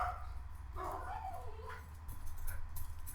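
A dog yips and barks in a few short, mid-distance bursts over a steady low hum, with no talking.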